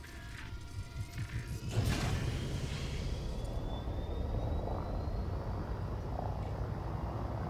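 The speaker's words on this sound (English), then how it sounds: "Let's get this ship in the air" A spaceship lifts off in a video game: mechanical creaks and whirring give way to a steady, loud engine roar that builds and holds, with no voices.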